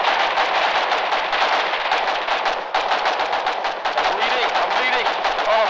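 Machine-gun fire from a Warden field machine gun up the road in the Foxhole war game, sounding as dense, continuous rattling bursts mixed with other battle gunfire throughout, with voices talking over it.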